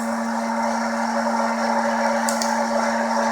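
A West Bend Poppery II hot air popcorn popper roasting coffee beans gives off a steady whirring roar, with two quick, sharp cracks from the beans popping close together near the end.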